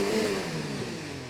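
Race car engine from the F1 2019 video game revving in a steady, rising-and-falling whine that runs continuously at a moderate, even level across the brief moment.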